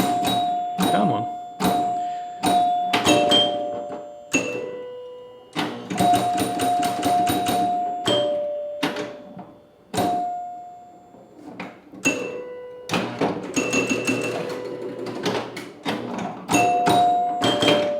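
Bright chimes from a vintage Williams Grand Prix electromechanical pinball machine ring loud and close, irregular strikes and quick runs over mechanical clatter and rattling, while a person talks at times.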